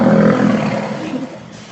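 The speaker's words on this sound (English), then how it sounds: "That's the sound that the stellar sea lions make." A deep, loud roar from a Steller sea lion at the Alaska SeaLife Center, one sustained bellow close by that fades out within two seconds.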